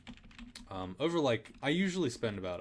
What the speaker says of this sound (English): I am fat fingering a lot of keys because I haven't played on this keyboard before.